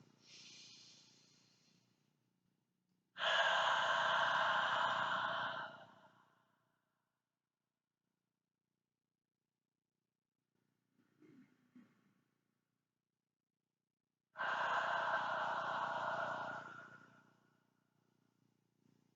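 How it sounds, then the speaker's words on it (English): Slow deep breathing, drawing air in through the nose and letting it out through the mouth: two long, close, airy breaths separated by silence, with a faint soft breath in between and no talking. "deep breaths, inhaling through the nose and then exhaling back out through the mouth"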